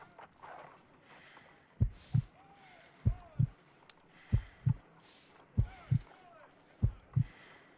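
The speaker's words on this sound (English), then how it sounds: "I need to concentrate and count the heartbeats." Heartbeat in the Sherlock Holmes: Crime and Punishment video game, with steady paired lub-dub thumps about once every 1.3 seconds, deep and prominent over a faint hum and soft high ticking.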